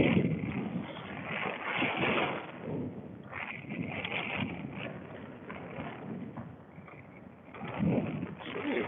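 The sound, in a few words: strong wind while fishing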